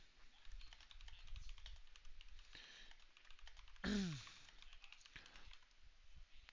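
Fast keystrokes clatter on a computer keyboard in a steady run of light clicks, with a sudden sweeping whoosh and a brief pause midway before the tapping picks up again.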